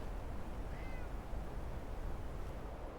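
In the video game Fallout London, a cat gives a short, faint meow that sits under steady, loud background hiss and rumble.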